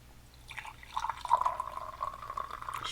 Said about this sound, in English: I poured you a cup